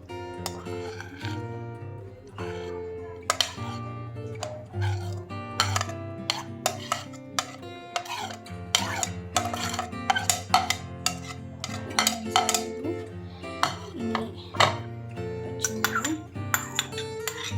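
Raita ingredients with onions being stirred together in a bowl, a run of repeated clinks and scrapes of a spoon against the dish, close and steady, under background music.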